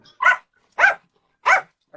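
A dog barks three times at a steady pace, short, clear, mid-pitched woofs with quiet gaps between them, heard nearby without other sounds.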